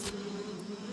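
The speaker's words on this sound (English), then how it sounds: "I think the insects are coming." A cartoon swarm of insects buzzes as a steady, continuous drone with a brief bright burst at the very start; no one speaks.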